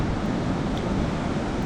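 Steady, loud wind blowing in off the sea on a beach during surfcasting, a constant broadband rush buffeting the microphone with no pauses.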